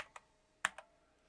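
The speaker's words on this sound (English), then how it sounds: "Let's type in ash hair" A handful of sharp computer keyboard keystrokes land close and clear: one quick tap, a pause, then two rapid clicks in a short burst. No one talks.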